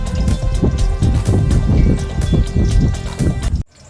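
Tomato-topped chapli kababs sizzle and crackle steadily in hot oil, a close, busy frying hiss with popping bursts that cuts off abruptly near the end.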